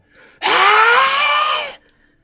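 A human voice imitates a spiritual, wind-formed scream with one loud, sustained, strained cry of just over a second that starts and stops abruptly.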